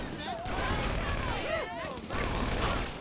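A gun fired in GTA 5 Online, with rapid bursts of gunshots and mechanical clatter in a game mission, loud and continuous, layered under music-like tones and a voice talking.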